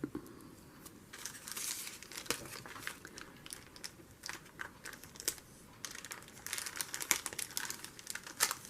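Dollar-store double-sided tape being handled, with crinkly rustling, tearing and crackling of the tape and backing paper in irregular close bursts.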